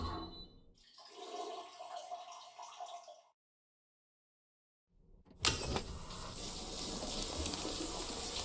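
A toilet flushes inside the video game Death Stranding 2, a rushing gurgle of water that cuts to silence and then returns as a louder, steady wash of running water.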